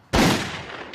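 A single loud gunshot from a 1968 zombie horror film cracks out sharply and close, then decays in a short echoing tail.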